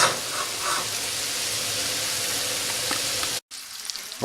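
Meat skin frying on very low heat in a pan with onion, a dense continuous sizzle and crackle, close and steady, briefly cutting out near the end before resuming.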